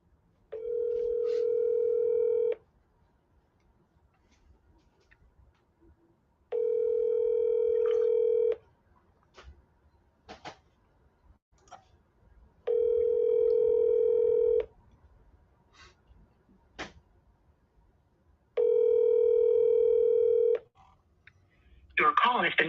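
A telephone call is placed: four evenly spaced bursts of a steady ringback-like dial tone, each about two seconds long, separated by quiet gaps with faint clicks, and a voice briefly enters at the end.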